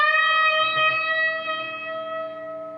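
A single electric guitar note on the B string bent up a full step and held with slow vibrato, ringing clearly and sustaining alone as it gently fades.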